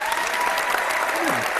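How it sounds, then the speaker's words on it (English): A studio audience gives dense, steady applause throughout at a talk show, with a faint voice underneath near the end. "Good applause."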